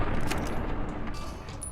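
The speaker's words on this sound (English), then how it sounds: "I'm gonna shoot him in the head until he dies" Rapid gunfire from a minigun in disrepair in Fallout: New Vegas aimed at a super mutant, a dense, loud, continuous burst of shots lasting under two seconds with no pause.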